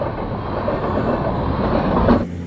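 The Patna to Bilaspur train runs along a rural line near Purulia with a loud, continuous rumble and rattle of wheels and carriages, ending abruptly as the noise cuts to quiet.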